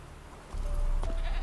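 A goat bleats in The Witcher 3: Wild Hunt: one short, wavering bleat, fairly close, set against a low rumbling game ambience.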